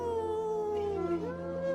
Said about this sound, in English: They heard his howls over their shouts.